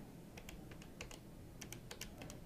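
Keys are pressed in quick irregular taps on a Polycom IP 500/600 series desk phone keypad, faint clicks over a steady background hiss with no voices.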